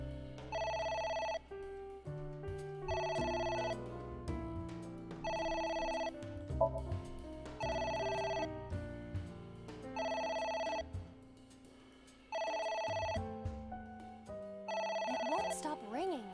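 An in-game telephone rings in AI: The Somnium Files: about eight loud, evenly spaced electronic rings with short gaps, over a low background music bed.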